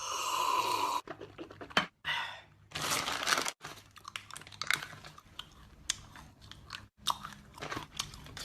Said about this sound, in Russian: Слушай, ты можешь не чавкать, а?